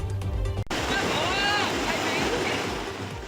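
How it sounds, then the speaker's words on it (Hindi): Floodwater rushes through the ancient Madhav Rai temple in Gir Somnath, Gujarat, as a loud, steady wash of turbulent flow. A short burst of other noise comes at the start, then an abrupt cut into the water sound. "जहां लगती थी भक्तों की कतार, वहां बह रही है पानी की तेज धार"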